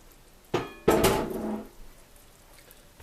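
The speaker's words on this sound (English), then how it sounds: "Let's lift this lid." The lid is lifted off a heavy pot of braising beef just out of a 300-degree oven. A short metallic clink is followed by a louder ringing clatter as the lid comes free, and the ring fades over about a second.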